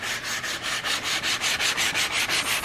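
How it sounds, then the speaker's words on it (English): The edge of a wooden cabinet is sanded by hand, a close, steady scratchy rasp in rhythmic back-and-forth strokes of about four per second, with no talking. "So you're not sanding the top, you're just sanding the edge, getting it thin"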